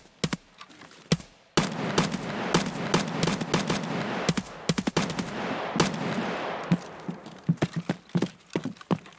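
Gunfire in the shooter game Escape From Tarkov: rapid bursts of automatic fire and single sharp shots in clustered volleys, loud and close, with brief gaps between exchanges.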